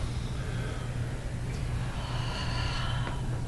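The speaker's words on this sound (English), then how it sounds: "Take a deep breath." A slow, deep breath drawn in and let out during a calming stress-relief exercise, a steady breathy rush close to the microphone with no talk over it.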